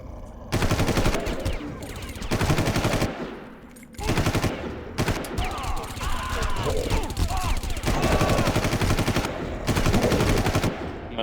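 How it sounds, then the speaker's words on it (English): Rapid submachine gun bursts in a Far Cry firefight, loud and near, firing in long sustained volleys broken by short pauses, with occasional talk mixed under the shooting. "They all have submachine guns as well for some weird reason."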